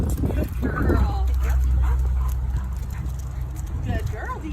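Two dogs, Dita and Otter, play on leash, with high whimpers and yips over scuffling and a low background rumble, close by; people talk nearby.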